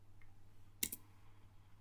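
Single sharp click of a computer keyboard key, close and faint over a low steady hum, otherwise quiet.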